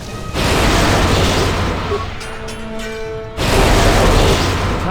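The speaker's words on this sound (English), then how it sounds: "Alright, target the mines, destroy." Mines are destroyed in Star Wars Knights of the Old Republic II, loud sustained explosive roars with a brief lull of mechanical tones before another blast bursts in, close and heavy.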